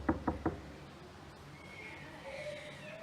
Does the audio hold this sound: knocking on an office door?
yes